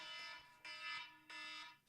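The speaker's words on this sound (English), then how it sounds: "timer always scares the shit out of me" A kitchen-style timer alarm beeps in three rapid high-pitched bursts separated by brief gaps, quiet and clear with no talking.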